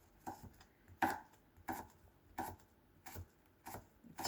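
A knife cuts pineapple into small sticks, a slow series of about seven distinct, soft chops on a board with quiet pauses between each stroke.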